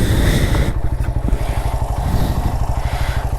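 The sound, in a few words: Suzuki GS motorcycle engine running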